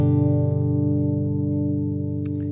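A dry, clean electric guitar with no effects applied lets a full chord ring out steadily and closely, slowly decaying, with a faint pick or fret noise near the end.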